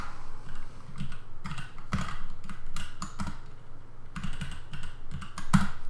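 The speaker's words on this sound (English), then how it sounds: "And I type out everything." Fast, uneven keystrokes on a computer keyboard, close and steady, clattering in bursts with brief pauses between them, set over a low constant hum.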